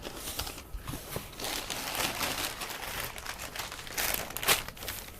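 Packaging for an Ulanzi MT20 carbon fiber tripod crinkles and rustles as it is opened by hand, a continuous close, fairly quiet crackling with irregular louder crumples.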